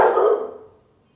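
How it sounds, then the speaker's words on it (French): A single dog bark rings out loud and close, then fades away over about a second with no other sound. "les chiens ils barquent, ils aboient"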